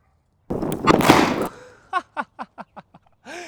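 An airsoft grenade goes off with a loud, close burst lasting about a second, followed by a rapid series of short pops that fade out, then a brief voiced exclamation at the end.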